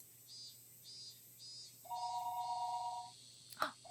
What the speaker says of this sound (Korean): あれ、電話だ。